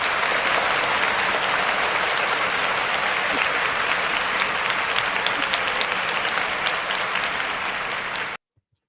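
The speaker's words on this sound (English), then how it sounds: "Let's give a round of applause to Khadijah." An audience applauds at a speaking event: dense, sustained clapping with a few cheers for several seconds, then it cuts off abruptly.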